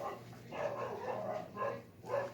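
A neighbor's pit bull or pit bull cross barks next door: a few spaced, fairly loud woofs in an irregular rhythm, heard alone without talk.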